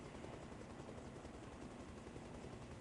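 Helicopter in the video game ARMA Reforger descending, a dense, continuous rotor and engine roar that stays steady and loud throughout, with no voices.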